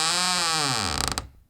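A door slowly creaks open in a cartoon fairytale scene as the wolf answers, a long drawn-out creak with a wavering pitch that ends in a short rattling clatter, heard alone.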